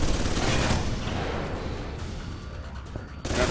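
Sustained, dense gunfire from a turret in the video game Alpha Protocol, a loud continuous rattle of rapid shots that fades slightly toward the end before a sharp burst returns.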